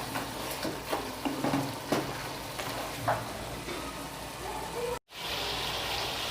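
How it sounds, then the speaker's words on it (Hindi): Lamb pieces fry with masala in a karahi, a dense steady sizzle broken by scraping stirs and clanks of a spoon against the pan, continuing briefly after a short cut. "मज़ीद हमने जो है इसको 2 से 3 मिनट के लिए अपने गोश्त को फ्राई कर देना"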